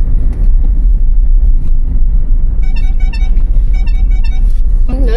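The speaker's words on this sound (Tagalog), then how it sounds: "Traffic." Loud, congested road traffic in Mandaluyong heard from inside a delivery vehicle: a constant heavy engine rumble with a cluster of repeated short car horn toots partway through and another horn blast at the very end.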